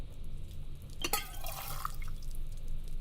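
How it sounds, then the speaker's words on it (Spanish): A glass of water dripping in The Silent Age, a bright splash and drip around the middle of a short stretch over a quiet low hum. "Muy bien, vaso con agua que gotea"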